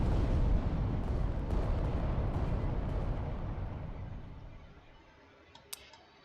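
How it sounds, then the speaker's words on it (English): Laser fire from a Titan in the tabletop-adaptation video game Adeptus Titanicus: Dominus, a loud rumbling blast that booms at first and then slowly fades over several seconds, with a brief sharp click near the end. "Just throw a bunch of laser fire in his direction and hope I can do something to him."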